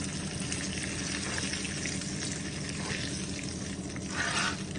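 Two pounds of chicken livers fry in a pan with a dense, continuous crackle and sizzle, close and fairly loud, swelling briefly near the end.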